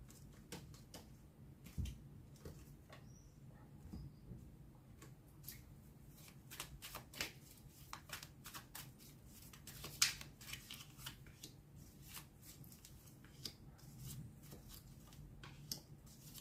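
Tarot cards are shuffled again and again in quick, crisp riffles and flicks, close and quiet, with a steady rhythm of short snaps and no talking.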